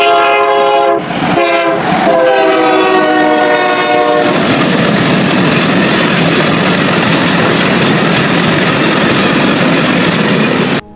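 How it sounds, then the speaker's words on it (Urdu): A loud train horn sounds from a train, then gives way to a steady, heavy rumble and rolling clatter as the train moves, filling the whole stretch with no voices. "چند منٹوں کے بعد گاڑی نے حرکت کی اور پھر اس نے بہت جلد رفتار پکڑ لی۔"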